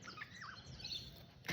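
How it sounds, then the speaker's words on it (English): A mistletoebird calls along a coastal walk at Tin Can Bay, giving a few thin, high chirps and short twittering notes that are faint and fairly distant, over a soft outdoor background. "Mistletoe bird."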